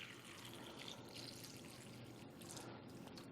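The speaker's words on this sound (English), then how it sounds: "we're just going to simulate that by pouring some tap water in here." Tap water pours steadily into a container, a continuous soft splashing and trickling rush at low level, heard alone without talk.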